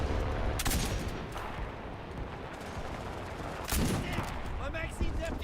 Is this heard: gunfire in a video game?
yes